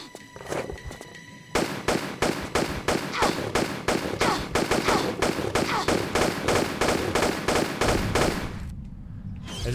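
Rapid gunfire exchange in the video game Tomb Raider Chronicles, set in the Colosseum in Rome, with dense repeated shots in steady bursts that carry on for several seconds and then stop abruptly.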